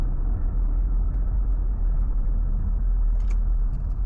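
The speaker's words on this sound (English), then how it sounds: "Car just came over." A car crosses a one-lane bridge on Log Cabin Road as a steady, loud low rumble of engine and tires, close by and continuous for several seconds, with no talk.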